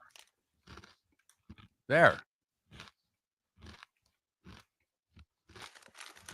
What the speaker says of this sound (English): instead of silence this break, you can get some crunching